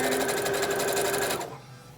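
A sewing machine stitching a fabric face mask runs in a steady, continuous whir and then stops near the end, leaving only quiet room tone.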